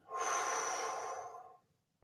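A single deep breath, a long airy inhale lasting about a second and a half, close and fairly soft, then fading into quiet.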